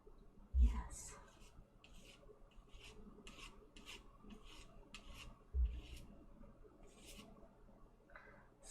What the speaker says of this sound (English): That's my nails scraping on.